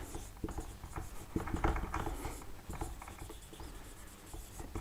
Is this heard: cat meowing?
no